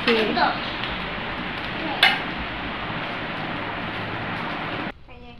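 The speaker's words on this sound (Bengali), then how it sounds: "এখানে বরবটি ভাজি করা হচ্ছে, বরবটি দিয়ে আলু দিয়ে ভাজি।" Yardlong beans and potatoes fry in a pan in a home kitchen, giving a steady, loud sizzle close by, with a few clinks of a utensil against the pan before the sizzle cuts off near the end.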